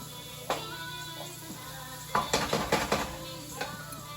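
A spoon scraping and clinking against a pot as potato curry is mixed, with a few sharp metallic knocks and a cluster of scrapes near the end, close and moderately loud in a quiet kitchen.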